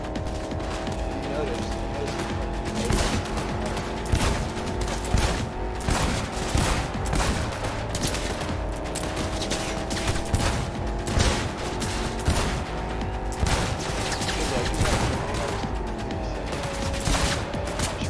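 Sustained, rapid gunfire from a powerful gun in Cyberpunk 2077, with dense bursts of shots up close across the whole stretch over a steady droning background and a voice in the mix.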